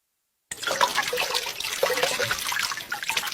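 Heavy rain and floodwater at an exam centre: a steady, close wash of splashing, rushing water starts abruptly and continues without a break.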